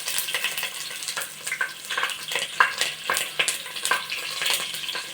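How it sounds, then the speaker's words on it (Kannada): Green chillies and onions hit hot oil together, crackling with a dense, steady sizzle broken by sharper pops and stirring scrapes over about five seconds, close and fairly loud with no one speaking. "ಇವಾಗ ಹಸಿಮೆಣಸಿನಕಾಯಿ ಮತ್ತು ಈರುಳ್ಳಿನ ಒಟ್ಟಿಗೆ ಹಾಕ್ತಿದ್ದೀನಿ"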